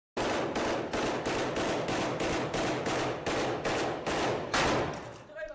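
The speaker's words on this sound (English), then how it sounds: "They're putting so many rounds down, his weapon becomes super hot. But he keeps firing." A soldier's automatic weapon fires a sustained string of loud, evenly spaced shots, about a dozen in a steady rhythm, close and dominant with no talk over it.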